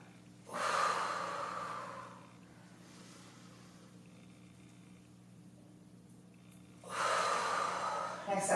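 Heavy, close breaths during a lower-body weighted workout, with two long, loud exhales or inhales, one at the start and one near the end, and quieter breathing in between.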